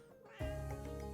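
A cat gives a single drawn-out meow, loud and close, rising sharply out of near silence and holding steady to the end.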